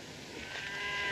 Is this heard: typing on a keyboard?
no